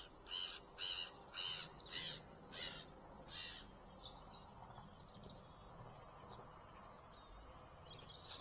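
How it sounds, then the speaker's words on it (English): Birds calling beside a fishing lake: a series of loud, harsh cawing calls in a rhythmic run, then softer scattered chirps, over a low murmur of distant road traffic. "the bird life is being quite vocal"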